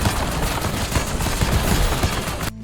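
A rapid-firing shotgun in Call of Duty Black Ops 6 Zombies with an endless-magazine, ice-storm augment, blasting in a dense continuous barrage of loud close shots that cuts off abruptly.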